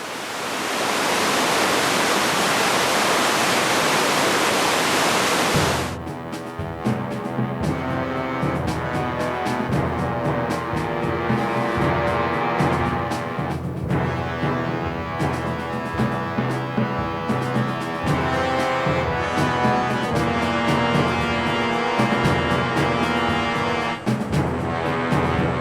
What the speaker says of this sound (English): as you can see behind me, there's an absolutely beautiful waterfall